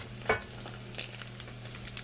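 Small pieces of meat for a homemade Italian spaghetti sauce frying until crispy give a close, steady sizzle, with a few sharper pops and scraping stirs over it.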